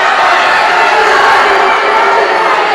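Spectators at a women's judo final at the European Open in Rome roar continuously in a dense, loud wash of cheering that fills the whole arena without a break.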